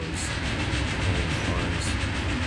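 Train cars in the tabletop-based strategy game WARMACHINE Tactics rock on their rails with a steady low rumble and faint rhythmic clatter, close and continuous with no talk.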